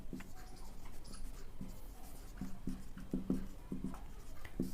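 Pen or marker scratching out a math derivation on a board, steady strokes and taps with short pauses, close and moderately quiet against a faint room hum.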